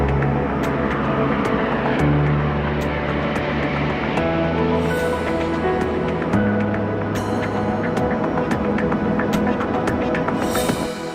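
An airplane landing, heard as a steady, loud engine hum and throb that persists for about eleven seconds, with faint clicks and rattles over the drone.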